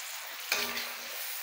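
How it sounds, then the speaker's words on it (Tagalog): Chop suey with young corn and a splash of soy sauce is stirred in a hot pan, giving one short scrape of a utensil against a steady sizzle that runs through the whole moment. "Haluin lang natin."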